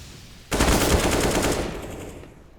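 Rapid automatic gunfire in a Counter-Strike (CSGO) match bursts in suddenly as a loud, dense rattle of shots, then fades off over a couple of seconds.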